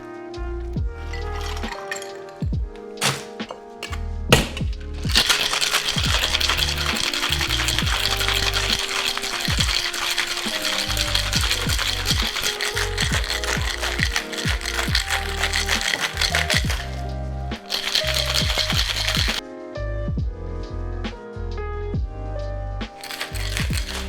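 Ice rattles hard inside a metal shaker tin during a long, vigorous shake of a Ramos Gin Fizz, a loud, close, continuous clatter with a few short pauses and no talking.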